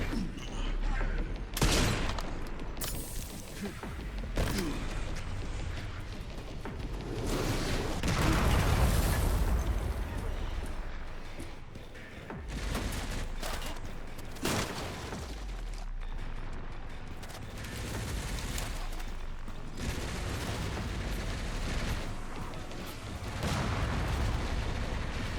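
Missile explosions in the video game Resident Evil Requiem boom and rumble in repeated bursts, with heavy blasts and continuous gunfire over the whole stretch under occasional talk.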